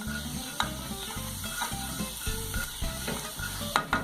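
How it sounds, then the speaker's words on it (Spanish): Garlic frying in a small amount of olive oil, a steady close sizzle with faint clicks and stirring, and a low mechanical rhythm underneath. "Voy a freír los ajos en un poquito de aceite de oliva, apenas, que no se quemen."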